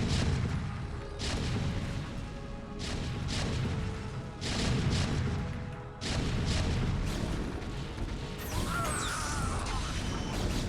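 Siege tanks fire in a StarCraft match, heavy booming blasts recurring every second or two over a continuous rumbling battle din, with crashes and mechanical clatter mixed in.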